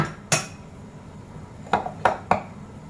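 Utensil clinking against a bowl while quinoa salad is mixed, four sharp metallic clinks: one early, then three in quick succession near the end, close and fairly loud over quiet background.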